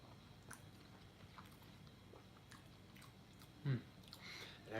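Quiet, close chewing of General Tso's chicken and cheesecake waffles, soft wet mastication with a louder bite toward the end, no words spoken.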